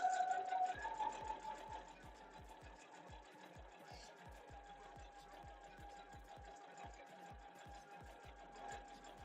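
A sewing machine stitches flange binding on a Starfire quilt with a J foot, running in a steady, rapid mechanical rhythm of needle strikes close by throughout, with no talk over it.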